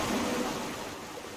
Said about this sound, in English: The signal is emanating from somewhere behind this waterfall.